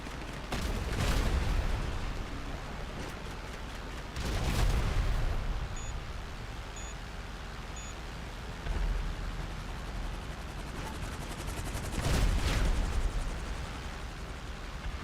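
Bombs going off in GTA Online, a series of heavy explosive blasts with deep rumbling bursts spaced several seconds apart over continuous background noise, with no talking.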